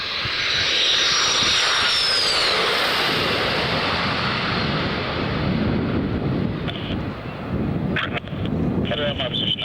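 A light aircraft in flight at about 2,000 feet, its engine a loud, steady drone with wind rush throughout, heard from close by with a voice talking faintly beneath it.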